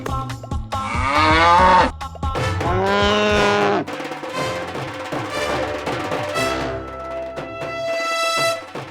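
A buffalo moos loudly indoors inside a house, several long drawn-out lowing calls in succession, close and prominent over a faint background.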